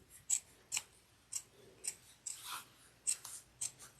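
Scissors snip the fabric exterior of a fold-over cross-body bag along a zipped seam, giving a series of crisp, close, quiet cuts at a steady, even pace without any speech.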